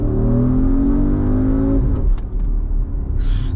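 A powerful, very heavy car accelerates hard, its loud engine note climbing steadily for nearly two seconds before the throttle lifts and the roar settles into a rumbling, fluttering decay with a few faint ticks at the end.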